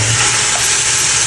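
Pork for sinigang hitting a hot pan and sautéing, a loud, steady sizzle with a broad hiss that fills the short moment, close up and with no talking.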